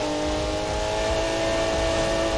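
Porsche engine in the Need for Speed 2015 racing game, a steady loud droning rev with sustained tonal whine throughout, no talk over it.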